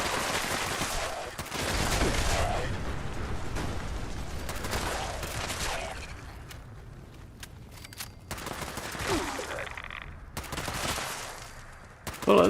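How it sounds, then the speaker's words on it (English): Gunfire in the Fallout 76 video game, with bursts of rapid shots and fusillades in several clusters over a steady background, fairly loud and close throughout. "Bullets going to the bad guy"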